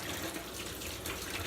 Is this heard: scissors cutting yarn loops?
no